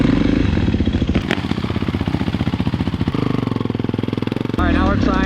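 A new Kawasaki KX450 gas dirt bike engine revs and idles up close, a loud, rapid pulsing rumble that shifts pitch partway through, with people talking over it near the end.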